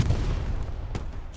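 Gunfire in Hell Let Loose comes as a dense burst of shots and booms that stays loud throughout, with sharper cracks near the end.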